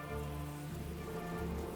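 Steady rain patters in the video game Elite Great War on the Western Front during the rainy season, a soft, even wash of falling drops with no talking.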